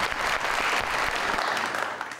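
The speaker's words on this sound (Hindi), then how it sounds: "आइए जी, बहुत सारी तालियों में।" A studio audience claps at a television talk show, a brief, steady burst of applause that fades slightly at the end.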